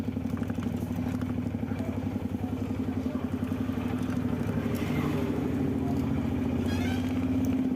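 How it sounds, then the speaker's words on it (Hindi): An auto-rickshaw tempo pulls away and keeps driving, its small engine chugging and rattling steadily close by for the whole stretch, with road noise underneath. "यहाँ से हम लोग बैठ गए टेम्पो में और अब हम लोग निकल जाएंगे"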